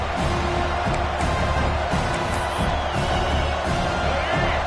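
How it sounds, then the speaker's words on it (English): A stadium crowd at a night football game roars continuously in a dense, loud wash of cheering and whooping, with no clear breaks. "This crowd bringing the energy and noise early"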